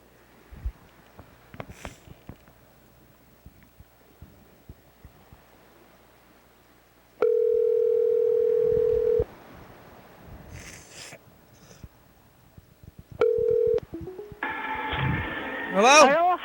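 A telephone tone sounds after a call is hung up, with two steady sustained beeps, a long one and a shorter one, standing out over faint background noise and brief bits of talk.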